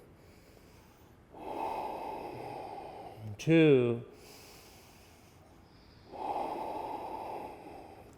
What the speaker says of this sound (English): deep breathing